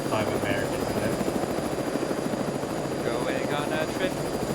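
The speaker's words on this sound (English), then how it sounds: "Imagine just seeing like like a Soviet helicopter carrying a Humvee with 5 Americans in it." A Soviet helicopter flying in Arma 3, its rotor thudding steadily and loudly throughout with a constant engine whine, while voices chatter over the top.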